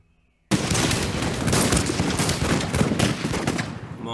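Dense, continuous musket volleys crackle without pause in a fortress siege in the Rise of Prussia strategy game, a loud sustained fusillade bursting in after a brief quiet start.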